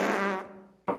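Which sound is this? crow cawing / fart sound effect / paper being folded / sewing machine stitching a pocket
fart sound effect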